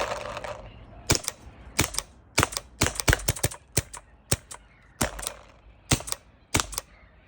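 A CCM Series 5 pneumatic airgun pump being short-stroked gives a close, loud series of about a dozen sharp mechanical clacks in an uneven rhythm, with no talking.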